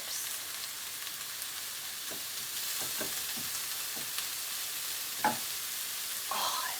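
Frozen vegetables fry in a hot pan, a broad steady sizzle with occasional scraping and stirring knocks, and a brief louder crackle near the end.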